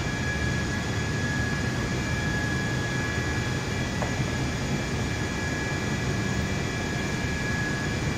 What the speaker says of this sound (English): we're on a taxiway, uh, currently making our way over the grass to uh, line up to the runway behind Simon